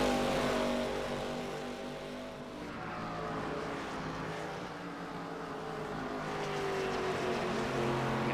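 Race cars in a racing video game roar around Road Atlanta, a continuous loud engine drone with shifting pitch as cars pass and rev, steady throughout without speech.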